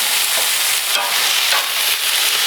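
Beer brats sizzle on a grill in a dense, steady, close crackling hiss with small pops scattered throughout and no voices.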